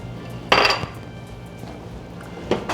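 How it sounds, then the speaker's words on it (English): Cornstarch slurry stirred into a pan of sauce, giving two distinct clattering bursts of utensil against cookware with quieter scraping in between, close and fairly loud. "Give that a good stir in."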